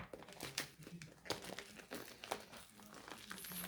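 A tightly taped cardboard parcel being opened, close up: steady crinkling and rustling of packaging with sharp tearing snaps at irregular intervals, fairly quiet, with no voice.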